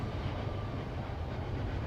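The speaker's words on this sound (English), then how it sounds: "And there goes another train." A freight train passes near a baseball field, its flatcars carrying containers stacked two high, making a steady, broad rumble with no distinct clatter.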